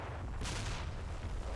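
Artillery fire missions land in the Combat Mission: Black Sea war game, a dense, loud rumbling barrage with a sharper blast burst early on, sustained and booming with no speech.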